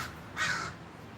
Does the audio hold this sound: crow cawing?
yes